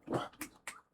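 A puppy whimpering and yelping close by in a few short high cries with brief pauses between them, with no talking.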